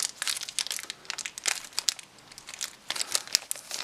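Taped cardboard packaging around a rechargeable motion sensor light bar crinkles and tears in quick, close, irregular bursts, with brief pauses between the rustles and no voice.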